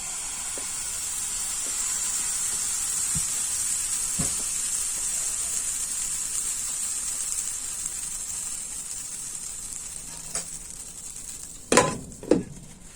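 A pancake sizzles steadily in a pan, a continuous close frying hiss throughout, with a few faint taps and then two louder clatters of utensils near the end.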